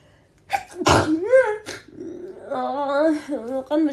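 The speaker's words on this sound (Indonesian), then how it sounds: "Oh, kan bersin guys" A person sneezes once, loud and close, with a sharp burst, then voiced sounds and talk follow right after.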